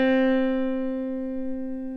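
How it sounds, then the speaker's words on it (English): A single middle C note struck on a piano rings out clearly and decays slowly over about two seconds, with no other sound. "That is our middle C."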